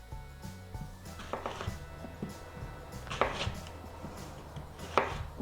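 A knife chopping through an apple on a cutting board, with several soft, uneven knocks followed by two sharper taps near the end, heard close and fairly quiet without any talking.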